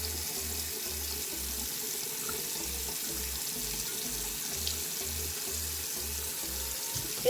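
Tap water running steadily into a sink while a Beauty Blender makeup sponge is wetted, a close, constant splashing rush that goes on without a break and without voices.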